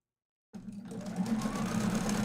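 After a brief silence, a sewing machine starts up and runs continuously, a steady mechanical whir that holds close and fairly loud to the end.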